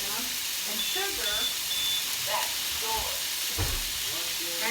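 Onions frying in a pot for smothered pork chops, a steady close sizzle and hiss throughout with occasional stirring scrapes.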